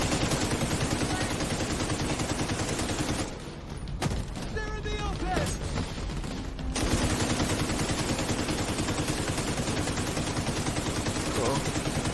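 Sustained automatic gunfire roars in The Division 2, with dense continuous shooting that fills the clip and drops briefly in the middle before resuming at full loudness.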